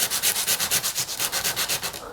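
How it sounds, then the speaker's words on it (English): A Precision Bass guitar kit body being sanded with a loud power sander, a steady rapid pulsing rasp that throbs in even cycles close up, with no talking. "we continue sanding"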